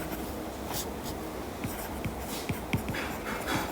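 Scratchy pen or chalk strokes writing out a physics formula, a run of short irregular scrapes and taps at moderate distance over steady room noise.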